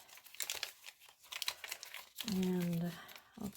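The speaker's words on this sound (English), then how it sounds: "I'll tear these edges too" Edges of coffee-dyed paper are torn and crinkled in a series of short, close rips and rustles, with a voice speaking over the later part.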